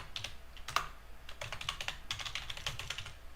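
Fingers tap out a short burst of typing on a computer keyboard, with quick irregular clicks and brief pauses, quiet and close, with no speech.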